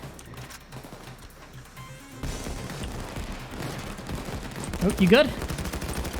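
Rapid automatic gunfire in Payday 2 during a loud bank heist, bursts growing denser partway through, with a player talking briefly over the shooting.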